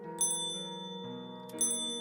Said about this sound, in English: Wait, bells?